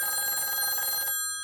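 Telephone ringing on a news anchor desk, one bright electronic ring burst lasting about a second, loud and close, then cutting off.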